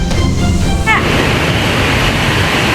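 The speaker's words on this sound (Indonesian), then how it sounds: "Luapan air mengalir deras ke area sekitar gudang" Floodwater from a river overflowing in Cirebon rushes past a warehouse area as a loud, steady wash of churning water. A voice or tone is briefly audible at the start.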